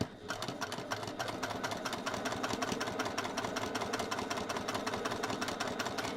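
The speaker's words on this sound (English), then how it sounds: "we're going to take that to the machine and stitch all the way around" A domestic sewing machine stitches steadily around a cross-body bag piece at a 2.5 stitch length, a fast, even mechanical chatter close up that runs the whole time without talking.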